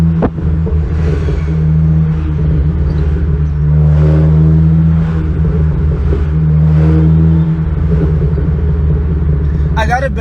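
A car with four exhaust pipes drives on a street and highway, its engine a loud steady rumble with surging revs throughout, while someone talks over it close by.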